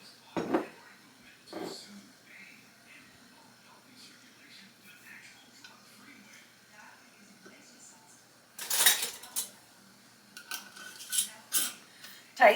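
Glass canning jars and metal lids clink and scrape as they are handled and screwed finger tight before going into the canner with ground burger and taco meat, faint and close, with a busier burst of clatter near the end.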